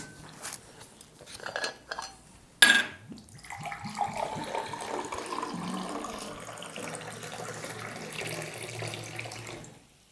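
Drinking water splashing from a tap or being poured into glasses, a steady close liquid stream running for several seconds after a sharp clink of glass and a few handling clatters, with no talking.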